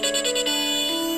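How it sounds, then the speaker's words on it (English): A dubstep remix of the classic Nokia ringtone, a dense electronic tone with a steady synth line and pulsing high accents, loud and continuous with no talk. "Someone made a dubstep Nokia ringtone?"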